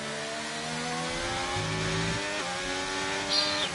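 A race car engine in a sim race at the Japan round, running through Suzuka's Spoon curve toward 130R, drones steadily with shifting revs and a brief higher whine near the end.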